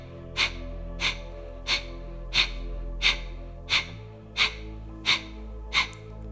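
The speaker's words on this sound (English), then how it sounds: "Now take a big inhale and begin to exhale." Forceful Kapalbhati breaths during a power yoga session: nine sharp, evenly spaced exhales through the nose, each a short burst of air about two-thirds of a second apart, close and clear over a faint steady background hum.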